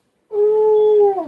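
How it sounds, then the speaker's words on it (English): A dog named Jack gives a single sustained, tonal howl up close, steady in pitch and then dropping off at the end, loud and alone. "That crazy dog."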